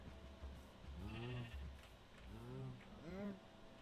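A Minecraft sheep bleats three times, wavering calls spaced about a second apart at moderate volume over a low background hum.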